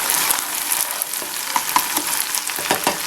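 Garlic sautés in olive oil and butter with a steady, close sizzle and scattered crackling pops, heard alone without talk.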